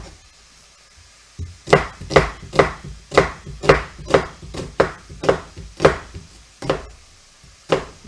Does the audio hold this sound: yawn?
no